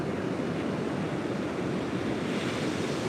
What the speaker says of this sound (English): These are some nice looking waves.